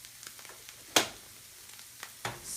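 Snacks frying in a pan as they are stirred, giving a soft sizzle under a few sharp scraping clicks of the utensil against the pan, close by and quiet, with no talk.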